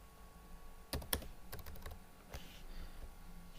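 Keys clatter on a computer keyboard as a dummy title is typed into an online form, a few quick bursts of crisp clicks separated by pauses, close and moderately loud over a faint steady hum.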